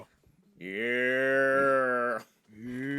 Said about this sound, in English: It's like a really cool cow.